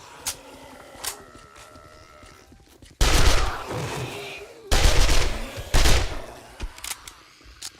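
SMG gunfire in the video game 7 Days to Die, with loud bursts of rapid shots in several volleys separated by quieter stretches of faint game ambience and isolated clicks.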